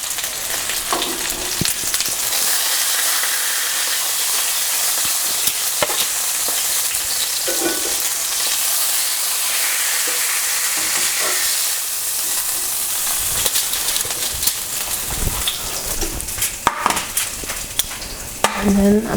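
Ribeye steak sizzling and spitting steadily in a hot frying pan, a dense hiss close up with occasional crackles and a few clinks of utensils.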